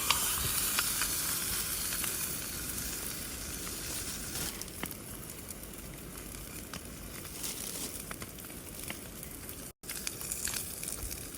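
Food sizzling and crackling in a small pan over a Jetboil camping stove, a dense steady frying hiss with occasional stirring scrapes, close and continuous.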